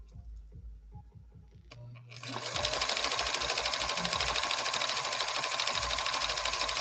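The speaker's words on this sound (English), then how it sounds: "See how the machine is able to manage a more demanding stitch on a real slippery, challenging material like this bubblegum material" A 1965 Viking Husqvarna 2000 sewing machine starts up and runs steadily, stitching a demanding pattern on slippery bubblegum fabric with a fast, even mechanical whir and rapid clatter that holds loud and close after a few quieter handling clicks.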